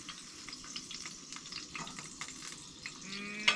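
Fish frying in a pan while cooking out on the ice during a winter camping trip, a soft crackling sizzle with scattered pops and faint handling noises, no speech.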